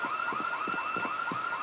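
An alarm in the Project Zomboid video game wails in a repeating two-tone siren-like pattern, steady and fairly loud, with no one speaking.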